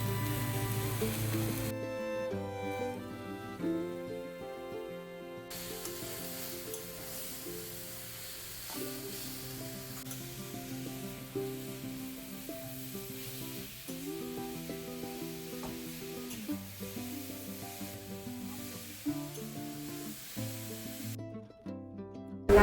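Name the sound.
grated coconut and jaggery frying in a pan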